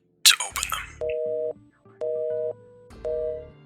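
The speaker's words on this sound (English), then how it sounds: "Steve's hands trembled at the sound of the phone call cutting out" After a short burst of clatter, a telephone line gives a busy signal: three evenly spaced beeps about half a second long, each about a second apart, clean and prominent.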